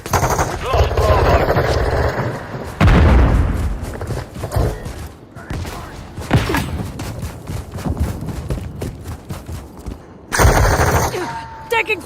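Machine gun fire in a military shooter video game, with loud rapid bursts and scattered shots in dense rattling runs and brief pauses, voices calling out among the gunfire.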